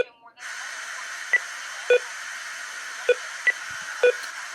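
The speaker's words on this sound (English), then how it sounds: "The sound you're hearing in the background is the static from the TV itself." Steady hiss of static from an old TV set running a Tele-Games 80007 console, poorly tuned, broken by short beeps and soft pulses spaced every second or so.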